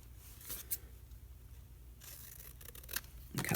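Scissors snip through journal paper in a few quiet, separate cuts, with a sharper rustle as the page comes free near the end.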